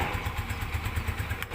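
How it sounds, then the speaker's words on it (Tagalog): A motorcycle engine starts and settles into a steady, rapid idle putter, loud and close, with a faint rising note near the end and no talking. "Madaling ma-start ang yung motor."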